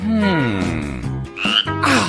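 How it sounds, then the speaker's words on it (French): A frog croaks in a short series of throaty, warbling calls, a few distinct croaks in just over two seconds, close and fairly loud with no talking. "Attention, Mila, ta grenouille a encore disparu."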